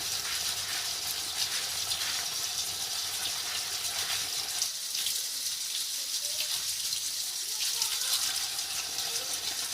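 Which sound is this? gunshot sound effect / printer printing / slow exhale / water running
water running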